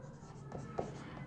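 Chalk or marker scratching briefly on a board during a psychology lesson, a few short faint strokes with one sharper tap, under quiet room tone.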